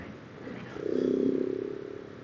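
KTM 690 motorcycle riding on the street, its engine swelling from a low rumble into a louder, rising drone for about a second before easing back, under steady wind noise.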